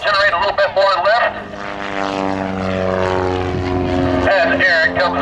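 A propeller-driven airplane engine roars close and loud during takeoff with one notch of flaps set, its steady droning tone rising and shifting in pitch as power builds, while a person talks over it at the start and end.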